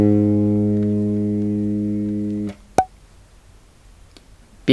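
A bass guitar's G string sounds a B flat that holds as a clean, sustained tone, fading gently before being cut off, followed by a short click and quiet.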